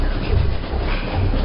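A train rumbles steadily in a short sound-effect bed for a horror story, a low continuous roll with faint rhythmic clatter and no voices.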